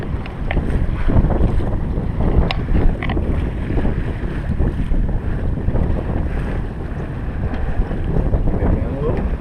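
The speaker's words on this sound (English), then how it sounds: "We're sailing." A sailboat under way in a breeze on open water, steady wind rushing across the microphone with water washing against the hull, loud and continuous throughout, a voice faintly present at moments.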